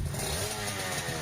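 An Aprilia RS250, a 1990s road motorcycle, runs with a loud, steady engine drone for the whole brief moment, a dense buzzing tone with a rough, slightly rasping edge and no voices over it.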